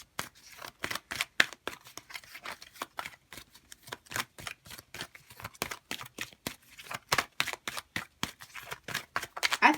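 Rapid, crisp riffling of a deck of oracle cards being shuffled, a dense run of sharp papery flicks and snaps that carries on steadily for several seconds without talk.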